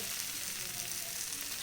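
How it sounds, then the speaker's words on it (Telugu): A brinjal and tomato curry bubbles in oil in a pan, giving a soft, steady sizzling hiss that stays quiet and even throughout, with no voices. "నూనె పైకి తేలే వరకు వంకాయల్ని ఉడికించుకోవాలి"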